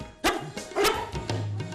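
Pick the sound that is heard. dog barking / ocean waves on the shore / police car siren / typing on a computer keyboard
dog barking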